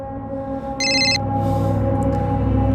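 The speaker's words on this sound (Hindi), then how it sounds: "अरे बशीर क्यों फोन कर रहा है अभी?" A telephone rings once with a short burst of bright electronic ringing over a continuous background music bed, heard in a crime drama scene.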